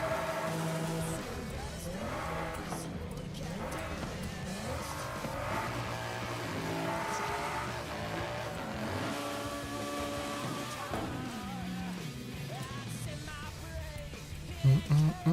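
An HSV car in Forza Horizon 5, an A-class build in an online race, roars with a steady, droning engine throughout, its pitch rising and falling with shifts and revs, while a voice talks over it.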